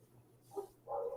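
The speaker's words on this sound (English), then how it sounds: "my neighbor's dogs just started going crazy over here" Dogs next door barking in two short bursts, the second longer, fairly faint and distant over a low steady hum, with no talking.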